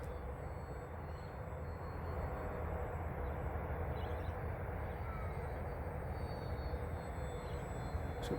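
An FMS SuperEZ radio-controlled model plane cruises at about three-quarter throttle at dawn. Its steady, even motor drone carries from a distance, with no one speaking.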